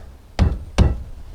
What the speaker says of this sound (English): I'm just using a block of wood to smash that down.